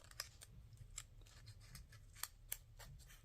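A craft paper punch works through thick paper, making a series of quiet, crisp clicks and snaps in an irregular rhythm over a low background hum.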